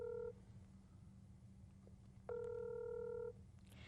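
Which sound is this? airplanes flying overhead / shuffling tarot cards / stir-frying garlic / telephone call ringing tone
telephone call ringing tone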